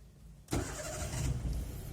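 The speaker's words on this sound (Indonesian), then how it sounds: "kunci kontak di on kan dulu, diputar dulu, mesin dinyalakan." A manual car's engine is cranked with the ignition key and catches abruptly, then settles into a steady close idle, with no one talking.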